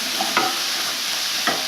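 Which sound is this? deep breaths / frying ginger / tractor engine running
frying ginger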